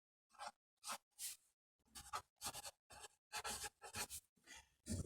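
A pencil scratching along a template to mark out a guitar neck shape on wood, in short separate rasping strokes with brief pauses between them, close and quiet.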